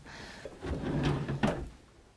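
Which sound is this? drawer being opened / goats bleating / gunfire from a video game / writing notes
drawer being opened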